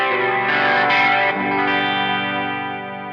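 Electric guitar played through a chorus effect pedal, a sustained shimmering chord ringing out loud and alone, then decaying slowly after a strum change.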